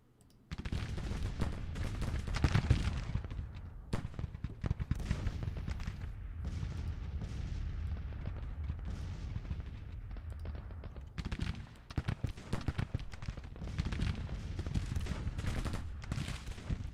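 Artillery battery and musket volleys from a Civil War strategy game crackle and boom in a continuous dense barrage, with rapid overlapping shots and a brief lull before the firing swells again.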